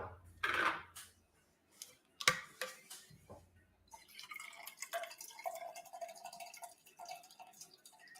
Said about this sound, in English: A little coffee pour.